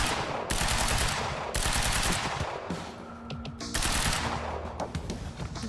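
Sustained automatic gunfire in the video game Quantum Break, long rapid bursts of shots with brief gaps between them, loud and dense throughout.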